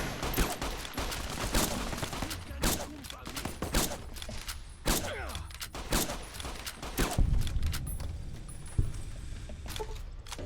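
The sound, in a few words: gunshots in Fallout New Vegas video game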